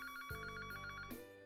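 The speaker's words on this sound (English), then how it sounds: "My phone was ringing." A phone rings with a rapid, trilling electronic bell pattern repeating steadily, fairly quiet, with a low thud partway through.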